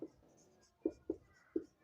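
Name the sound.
writing out a maths solution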